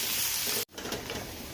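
Ginger, garlic and green chillies fry in a pan with a dense, close hiss of sizzling oil, broken by a brief gap before the crackling resumes.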